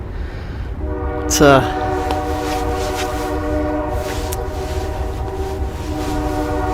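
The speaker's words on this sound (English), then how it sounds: "literally the train just got here" Train arriving at a station with a long sustained horn blast and steady rumble throughout, a short sharp squeal near the start, people talking over it.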